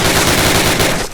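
A Thompson submachine gun fires in Call of Duty, a loud rapid burst of rounds hammering in quick, even succession for about a second before cutting off.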